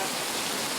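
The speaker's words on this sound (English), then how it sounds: "the rain started back up" Steady rain pouring down outdoors along a road with failing ditches, an even, dense hiss with no breaks and no voices.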